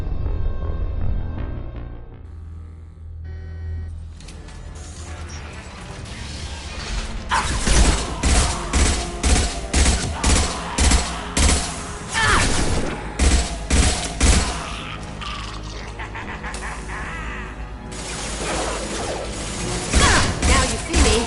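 Gunfire in the video game Mass Effect 2: rapid bursts of sharp shots crackle over a low mechanical rumble, with repeated volleys in the middle and a few more near the end.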